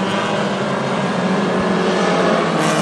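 Hornet class race cars roar around the quarter-mile Princeton Speedway in a steady, dense engine drone, several cars blending into one continuous loud rumble with no talk.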